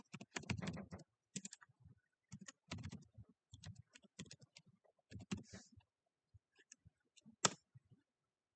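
Typing on a computer keyboard in bursts of quick clicks with short pauses, fairly quiet and close, with no talking.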